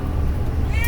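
A stray cat locked in an RV bathroom gives one short, high meow right at the end, above a steady low rumble.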